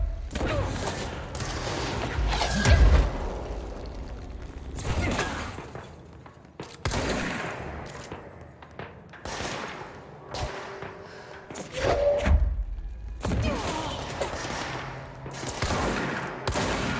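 Shotgun blasts in the action game Control, loud booming shots repeated at irregular intervals amid thuds, crashes and combat clatter, with a dense layer of game noise between the bursts.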